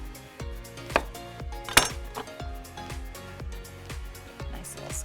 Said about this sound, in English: So let's give that a rough chop and just sprinkle that right on over